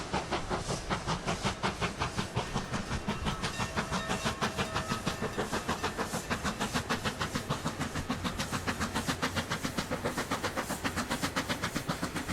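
A steam locomotive in a railway video game picks up speed, its exhaust puffs synced to the pistons, making a rapid, steady chuffing rhythm with hiss and clatter that fills the scene up close.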